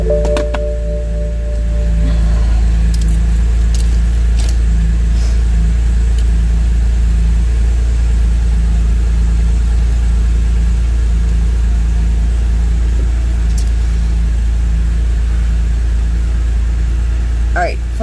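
A car's engine runs steadily for the whole stretch, a low continuous idle-to-cruise hum that swells slightly after a couple of seconds, with faint cabin rustles and occasional voices underneath.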